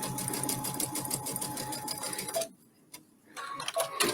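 A sewing machine stitches quilt patchwork at stitch length 2 with a regular presser foot, a loud, steady rapid mechanical whir with dense ticking for about two seconds, then stopping briefly before a short burst resumes.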